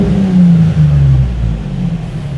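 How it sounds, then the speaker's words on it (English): A car engine being tuned on an AEM Infinity ECU revs sharply, then its loud, close drone sags and falls away in pitch, alone with no talk. "I've just given the engine a really sharp rev, and I'm going to do that again"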